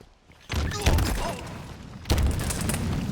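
Two bursts of Mangler pistol fire in Halo Infinite, each a heavy booming shot with a thudding low impact, the second about a second and a half after the first, over game ambience.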